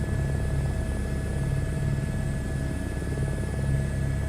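A helicopter landing in a flight simulator, a steady droning engine whine with a low, pulsing rotor chop, constant and close throughout, with no voices.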